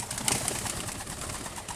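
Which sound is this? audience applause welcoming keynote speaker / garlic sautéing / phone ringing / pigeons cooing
pigeons cooing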